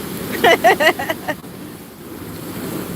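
Ocean waves surge in a steady washing roar with strong wind buffeting the microphone, while a voice briefly cuts in near the start over the water.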